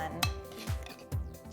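Three quick spoonfuls of baking powder go into a measuring cup, each a soft metallic clink and tap in an even rhythm, close and quiet.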